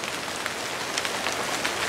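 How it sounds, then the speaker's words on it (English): Rain falls steadily and densely, a continuous hiss of drops pattering on surfaces outdoors, with no voices over it. "And now the rain's starting to pick up."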